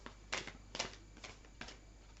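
Moonology oracle cards being shuffled, four quiet crisp riffling bursts at a steady pace, close and soft, with no voice.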